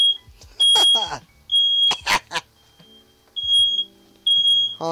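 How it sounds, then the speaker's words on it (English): A shrill electronic fire alarm beeps in repeated piercing tones indoors, loud and close, interrupted between pulses by a voice talking. "That's the fire alarm right there."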